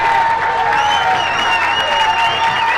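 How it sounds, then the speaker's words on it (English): A football crowd at a Fairview Park vs Rocky River high school game claps in a steady dense wash of applause throughout, loud and sustained like a standing ovation, with faint whistles and cheers mixed in. "The crowd really showing their appreciation for it. Standing ovation."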